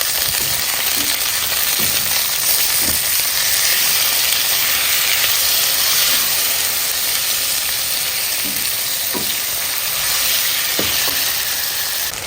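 Onions and tomatoes fry in a pan, giving a steady, even sizzle with faint scattered pops and stirring clicks, close and continuous with no talk.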